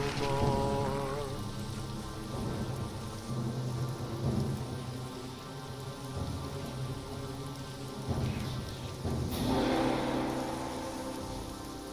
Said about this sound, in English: That's lightning.